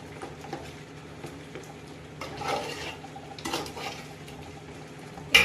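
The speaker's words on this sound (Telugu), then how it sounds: "దీన్ని బాగా కలిసేటట్టు మిక్స్ చేసుకుందాం" A spoon scrapes and clinks against a cooking pot while biryani is stirred and mixed at home, in a few soft bursts of stirring, close by and fairly quiet, ending with a sharper knock.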